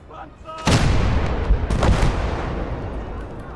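88 mm guns firing in a tank battle video game, a loud sudden boom followed by a second blast and long rumbling decay, close and heavy, with faint voice-like sound in the mix.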